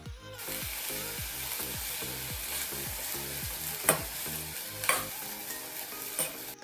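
Rhythmic thumping and scraping of a utensil mashing green peas in a sizzling pan, a steady series of soft knocks over frying hiss.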